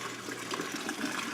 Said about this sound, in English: I have a 1 inch drain, and it's a little gurgly